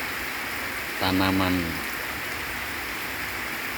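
Rain falls steadily on young oil palm seedlings planted in a plantation, a constant soft hiss throughout, with someone speaking briefly over it.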